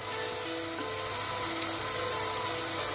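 Meat bhuna curry simmering on slow heat in a pan, a steady, even low sizzle and bubbling throughout with no talking.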